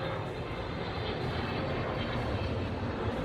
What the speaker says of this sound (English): That plane is a lot closer in reality than what I'm doing.